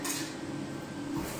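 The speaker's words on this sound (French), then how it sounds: "ça, c'est les ingrédients secs qu'on va venir mélanger" Dry cake ingredients for a chocolate-raspberry cake are stirred together in a bowl, a steady close scraping rustle lasting only a moment.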